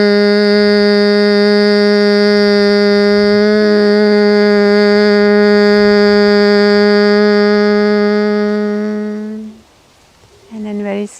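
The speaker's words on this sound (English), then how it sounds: "We're going to take one beautiful Brahmari breath here, honeybee breath" One long Brahmari honeybee breath: a close, loud, steady hummed tone held for about nine seconds, then a brief inhale and the start of another hum.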